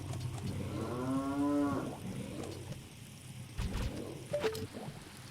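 A video-game cow lets out one long, loud moo over a low background hum, followed by scattered quieter game sounds.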